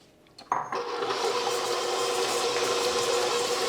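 Electric hand mixer beating 200 grams of butter for a German cherry cake, starting with a brief clatter and then settling into a steady, loud whirring drone that runs on without pause.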